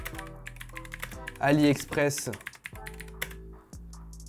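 Quick keyboard clicks as a product name is typed, running under someone talking in French throughout.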